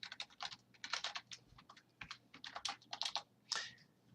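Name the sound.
typing on a computer keyboard while writing a C program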